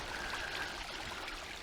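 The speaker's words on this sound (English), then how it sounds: "little waterfall here" A little waterfall rushes in a steady, even wash of splashing water, close and continuous throughout with no breaks, faint whistle briefly on top.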